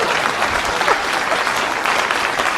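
Applause from a studio audience, dense and continuous clapping at a fairly loud level, with a little crowd murmur mixed in.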